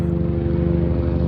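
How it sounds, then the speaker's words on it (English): A helicopter passing overhead in Los Angeles, a loud, steady rotor drone with a fast rhythmic low chop that fills the whole moment without letup. "Helicopter, Los Angeles, that's how we roll around here. Sorry guys, it's passing."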